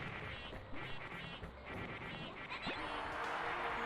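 Duck quacking during a jungle stage of a video game, repeated short quacks layered over busy game music and effects at moderate level.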